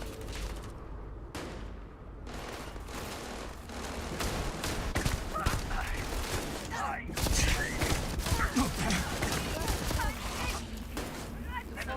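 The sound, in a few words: gunfire in the video game Starfield Shattered Space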